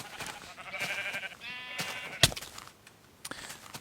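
Minecraft sheep bleating on a sheep farm in the video game, a few short nasal bleats close by with a sharp click partway through, no speech.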